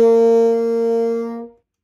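A single sustained high B-flat on a bassoon rings clearly at a steady pitch for over a second, then stops cleanly, leaving silence.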